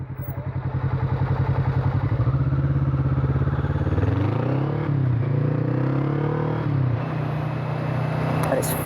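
A Kawasaki Vulcan motorcycle rides along steadily, its engine throbbing close and loud with a rhythmic low drone that shifts pitch slightly as it changes speed, accompanied by wind buffeting throughout.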